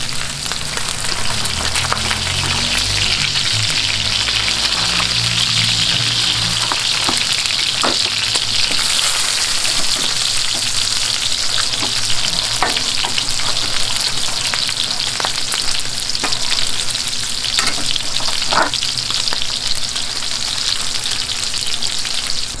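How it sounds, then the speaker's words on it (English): Hash browns fry in oil on a Blackstone griddle, giving a loud, steady sizzle that runs the whole time, with scattered crackles and pops and some low scraping early on. "So we're just going to go ahead and cook our hash browns right in that"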